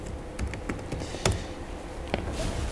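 Fingers tap a computer keyboard in a lecture setting, making a quick run of clicky keystrokes at an uneven rhythm with no talking over them.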